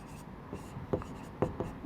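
Pen or chalk writing by hand during a Class 10 coordinate geometry maths lesson: a few soft, scratchy strokes spaced irregularly, quiet and close, with faint voice traces in the background.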